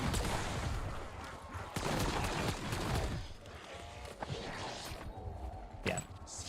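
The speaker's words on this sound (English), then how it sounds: "This is the Jägermeister pistol." Rapid gunfire from the Jägermeister pistol in Black Ops 7 Zombies, a dense run of sharp shots with brief pauses, loud and close amid game noise.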